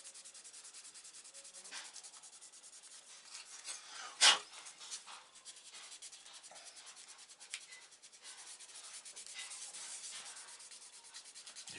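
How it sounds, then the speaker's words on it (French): Car bodywork is sanded by hand over the whole body, a steady close rasping scrub that goes on for the full stretch with short louder strokes and one sharp scrape partway through. "il va falloir poncer toute la carrosserie"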